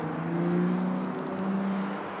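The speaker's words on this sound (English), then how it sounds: "Y'all hearing all this traffic." Road traffic rumbles past nearby, a steady engine drone of a passing car with a low tonal hum that swells and fades slightly, no one talking.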